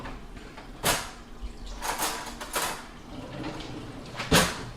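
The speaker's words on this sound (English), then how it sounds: "I'll tap around on top of it to make sure that it's separating from the pan" A butter knife taps on top of a banana pudding cream cheese pound cake in its pan, giving a few scattered, sharp knocks at close range amid faint kitchen noise, with no one talking.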